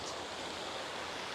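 Water flowing at the Water Dome fountain on the Florida Southern College campus in Lakeland, Florida, a steady broadband rush of spraying and splashing water, even and continuous with no voices.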